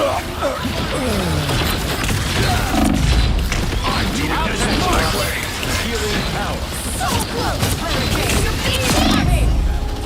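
Gunshots and impacts in the hero shooter game Marvel Rivals, loud, chaotic booms and thuds layered over a constant battle din, with a voice talking throughout.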